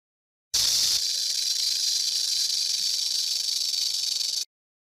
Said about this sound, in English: That's a snake.